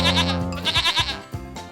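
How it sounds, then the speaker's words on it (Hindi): A goat bleats several times in quick wavering calls near a rooftop fish-farming spot, loud and close, with no voices over it. "मुझे तो बकरी की आवाज सुनाई दे रही है।"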